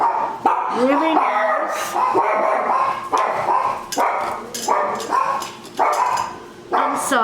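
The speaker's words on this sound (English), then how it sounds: "Once in a while my dogs just start barking." Several pet dogs bark in repeated bursts through a home setting, loud and close, with a person speaking briefly over them.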